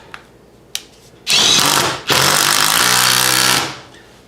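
Power drill driving bits into pre-drilled holes in wood for mounting a bowl blank on a wood lathe: two short loud bursts of whirring, the second longer and steady, alone after a couple of faint clicks.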